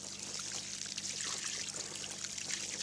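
Water in the Saône river as a 20 kg carp is released back in, a steady close splashing and trickling wash that runs continuously without pause, no voices.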